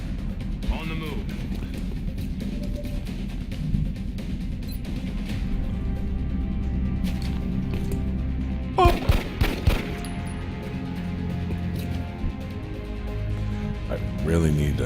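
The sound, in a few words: gunfire from weak guns in the video game XCOM Enemy Within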